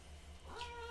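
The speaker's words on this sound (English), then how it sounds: "my cat is so loud." A pet cat lets out a loud, drawn-out meow that rises in the second half, close by and alone over a steady low hum.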